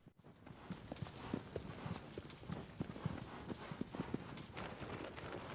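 The horse Agro galloping in the video game Shadow of the Colossus, a steady rapid run of hoof clip-clops, fairly near and moderately quiet, with faint wind behind and no talking.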